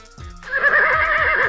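A horse in a Robin Hood video game lets out a single loud, close whinny, a wavering high neigh lasting about a second after a short lead-in.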